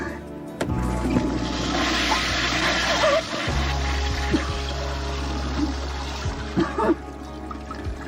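A toilet in a prison flushes, a rushing gush of water that runs on and trickles for several seconds, with a few faint knocks and movements.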